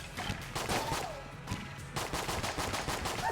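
Rapid automatic gunfire from a gun in the video game Enter the Gungeon, a dense stream of loud, sharp shots with a brief pause midway, no voices.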